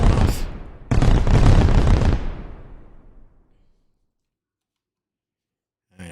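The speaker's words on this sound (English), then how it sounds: "Oh, fireworks are going off." Fireworks burst outdoors in two loud, crackling volleys of rapid pops that decay into a fading rumble, followed by a long silence and a brief final crackle.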